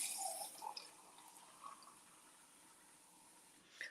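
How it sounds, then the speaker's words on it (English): Water pours faintly into a container to rehydrate dried hash browns, a soft, steady trickling with a few drips, quiet and alone. "let's put some water in here"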